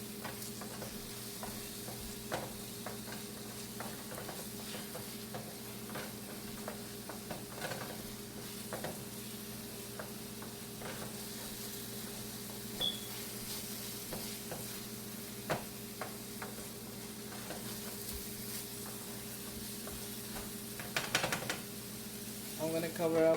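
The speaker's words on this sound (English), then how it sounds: "I'm just gonna give another mixing because I don't want the mix to get burned." Carp mixture stirred in a pan while it cooks, a steady sizzle with scraping and light knocks of the utensil continuing throughout, close and fairly quiet.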